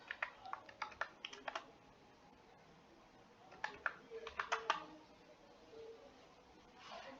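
Computer keyboard keys click in two quick bursts of typing a search, close and crisp, with a pause between and a soft rustle at the end.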